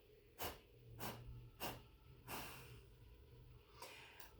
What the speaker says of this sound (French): On peut souffler sur les bougies.